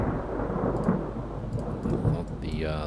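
Thunder rumbles loudly through a storm at sea in the naval battle game Ultimate Admiral Dreadnoughts, a dense continuous roll with rain-like hiss and a faint tonal sound near the end.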